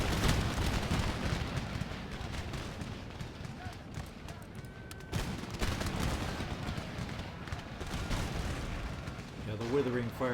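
Artillery and musket volleys in Empire Total War rumble in dense, continuous bursts of distant gunfire and booms, with someone talking over the battle.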